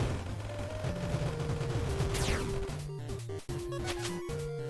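Rapid, bouncing gunshots from the video game Monolith crackle in quick bursts over electronic game music and tones, with a brief dropout near the middle before the shots and music resume.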